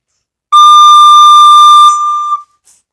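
Soprano recorder holding the note D, played with only the second front hole covered and the back hole open: one clear, steady tone close to the mic for nearly two seconds, then a brief softer tail, with no voices.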